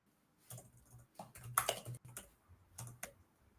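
Quick bursts of keystrokes on a computer keyboard, clustered into short typed runs with brief pauses between, close and fairly soft.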